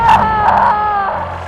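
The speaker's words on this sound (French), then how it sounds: "Oh là là, c'est Rumi qui crie." A recorded scream from the character Rumi, a kidnapped woman: a loud, sustained, wavering high cry with tonal shifts, played back as audio alone with no talk over it.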